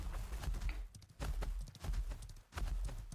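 Rhythmic hoofbeats of a horse mount in the Ashes of Creation video game, steady clip-clop strides at close range and fairly loud, with no other sound over them.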